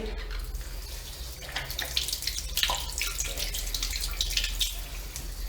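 Steady rush of water pouring from an outdoor wall tap, a continuous close hiss with broadband splashing that holds at an even level throughout, no voices over it.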